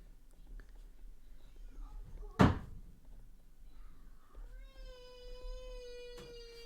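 A child runs into a door with one sharp, loud thud that stands out against quiet room tone, followed later by a faint, drawn-out whine from a child or cat.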